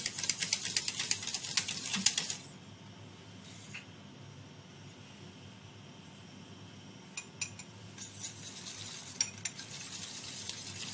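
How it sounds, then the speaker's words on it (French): A pectin-sugar mix being stirred into a raspberry compote: a burst of brisk scraping and clinking at the start, a quieter stretch of low bubbling, then more spoon scraping toward the end, all close and with no talking. "Je vais pouvoir incorporer mon mélange pectine-sucre."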